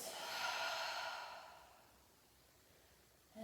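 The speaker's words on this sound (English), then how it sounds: "take a deep breath in through your nose. Exhale through the mouth." A slow, deep breath pushed out through the mouth during a yoga vinyasa session, a soft airy rush that swells, then fades over a couple of seconds into quiet room tone.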